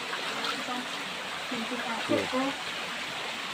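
Water of an underground river rushes steadily in a broad, even hiss through a cave entrance, with someone talking briefly over it.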